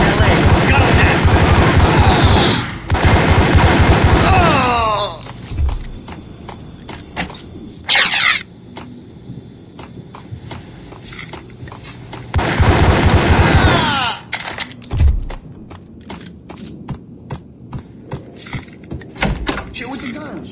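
Bursts of Max Payne video game gunfire come in loud, dense volleys with sharp impacts between quieter stretches, while game characters talk over and between the shooting.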